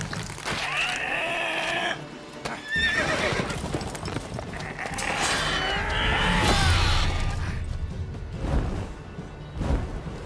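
Horse in The Witcher 3 game whinnying loudly amid hoof clip-clops and dense battle noise, with several neighing bursts across the stretch and a brief crash near the end.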